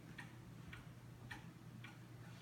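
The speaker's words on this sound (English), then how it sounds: "This is a Monumental antique Black Forest Hunter Cuckoo clock from about 1890" An antique Black Forest Hunter cuckoo clock from around 1880–1890, a monumental five-foot piece, ticks steadily in an even tick-tock rhythm, the crisp beats close and clear above a low steady hum.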